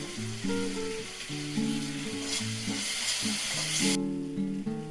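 Onions and green chilies sizzle and fry in a pan as soy sauce and chili sauce go in for chow mein, a steady close sizzle with stirring, no talking.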